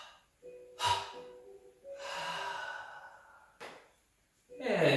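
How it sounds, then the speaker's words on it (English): Breaths during a breathing exercise: a sharp intake, then a long audible exhale, another quick breath and a final strong outbreath, close and loud against quiet pauses. "Breathing out 3 times."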